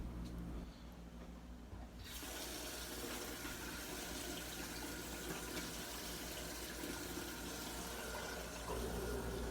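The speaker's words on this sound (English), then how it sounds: "I'm gonna get her some more water" Tap water runs steadily to refill a pet's water bowl with fresh water, a continuous close rush that starts abruptly and keeps flowing.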